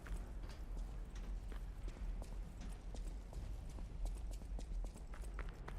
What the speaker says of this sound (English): I think here I'm hearing the stomps